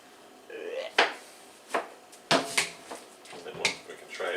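Food is chopped for WW2-style bean and sugar sandwiches, giving several sharp, uneven knife knocks on a board, close and clear, mixed with soft handling noises.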